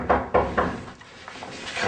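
Three firm knocks on a door backstage on a punk band tour, close and sharp in quick succession, followed by a quieter room hum.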